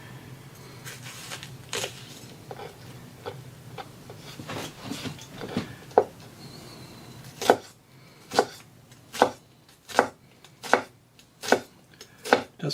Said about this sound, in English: the shallot test. Looking for a nice minced shallot